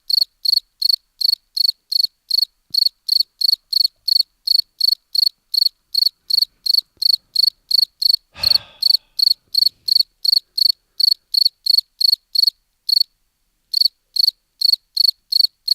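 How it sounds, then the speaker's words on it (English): A cricket chirps steadily in rapid, evenly spaced pulses, loud and close, with a brief thump partway through and a short gap near the end. "Even the cricket's getting tired."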